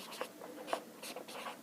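Pen scratching across a surface during a grammar lesson, a series of soft, irregular strokes with small taps, close and fairly faint, with no talking.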